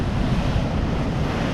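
Rough ocean waves on the coast of Portugal make a steady, loud, broad roar of surf mixed with gusty wind buffeting the microphone, with no pause over a short stretch.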